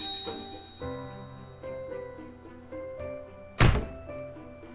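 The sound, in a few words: metallic thud of back striking a bench, from the video game Corpse Party Blood Drive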